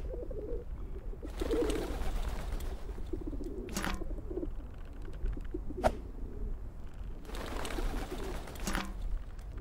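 Pigeons coo in the video game Whateverland, with soft, throaty, rolling calls repeating in waves over a low ambient bed, close and moderately loud.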